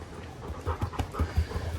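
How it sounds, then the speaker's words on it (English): An excited dog pants rapidly at close range, a quick rhythmic series of breathy huffs with occasional louder bursts and no speech. "Incoming crazy dog."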